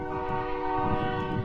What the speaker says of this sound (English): You didn't have the 3 o'clock train.